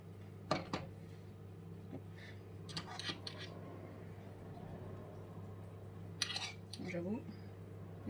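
A metal fork clinks and scrapes against a mould while dotting 50 g of butter pieces over brioche dough, a few sharp taps and rubs over a steady low hum.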